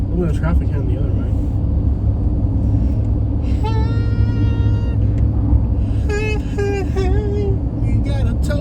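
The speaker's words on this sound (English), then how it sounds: "Look at the traffic heading the other way." Steady rumble of heavy road traffic on Interstate 75 through downtown Atlanta at rush hour, heard continuously from inside a moving vehicle, with tonal whines rising through the drone.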